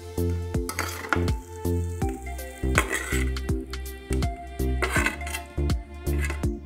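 Tomatoes and onions sauté in a pan for a vegetable chutney, a quiet sizzle broken by repeated clinks and scrapes of a spoon stirring against the metal in an uneven rhythm.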